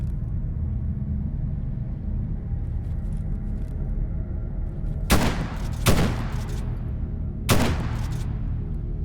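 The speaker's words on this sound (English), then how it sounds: "He's shooting at me. It was a shotgun" Shotgun blasts in S.T.A.L.K.E.R. GAMMA: three loud booming shots, two close together and a third after a short gap, over a constant low rumbling ambience with no speech.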